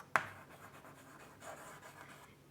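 A sharp tap, then a soft scratchy stroke of writing on a board during a Class 12 chemistry lesson on crystal lattices, faint against low room noise, no talking.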